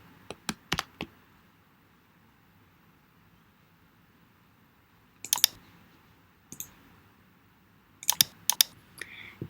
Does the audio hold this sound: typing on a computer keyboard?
yes